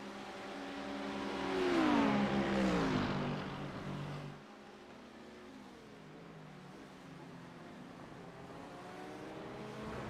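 GT3 race cars at Road Atlanta: one engine roars close by and its pitch drops as it passes, then fades into a quieter, distant engine drone.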